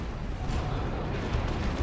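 Lascannon shots from Havoc squads pounding a target during a 3v3 Dawn of War 2 battle, a dense, steady roar of booming blasts and rumble with no clear gaps, filling the whole stretch at moderate loudness.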